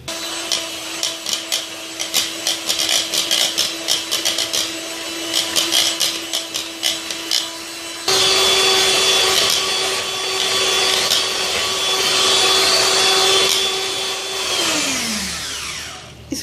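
An electric mixer beats butter and eggs for vanilla cupcakes, a loud steady motor whine with a rhythmic churning. Partway through it shifts to a higher speed, then winds down at the end.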